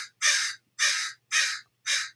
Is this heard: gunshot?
no